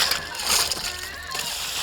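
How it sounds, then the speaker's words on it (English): Fresh sardines are rinsed and sloshed in clean seawater at a harbour on Lesvos, giving continuous close splashing and watery churning, with voices faintly mixed in. "they're putting them into fresh water just to take the salt water out of them and clean them up"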